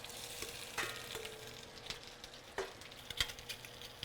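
Shrimp frying in a little oil in a pan, a soft steady sizzle with occasional light clicks and stirring scrapes, close but quiet, with no voices.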